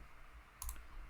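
Two quick, close mouse clicks in rapid succession, a computer mouse double-click over a faint room hum, with no talking.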